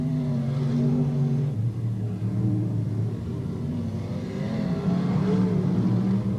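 Dirt-track race cars at Putnam County Speedway come out of the fourth turn in a 1992 S.T.A.R.S. series race, their engines forming a loud, continuous roar that shifts pitch as they pass.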